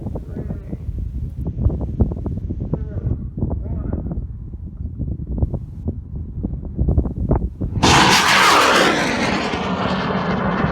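A high power rocket launches in the Mojave Desert, a sudden loud roaring blast that rises after several seconds of wind-buffeted rumble and continues steadily to the end, with no talking.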